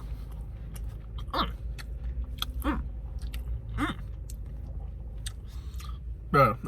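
Chewing on a McDonald's McRib sandwich, with a few bursts of biting and mastication over a steady room background while someone speaks between mouthfuls.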